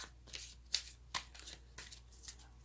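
Tarot cards shuffled and drawn close up, a quiet run of soft riffling flicks and snaps in short irregular bursts, alone and faint.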